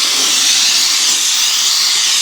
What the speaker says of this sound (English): We're videoing the steam cleaner.